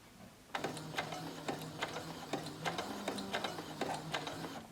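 A sewing machine stitches forward and then backward in short repeated mechanical bursts, close and clear, with a steady rhythmic clatter of needle strokes.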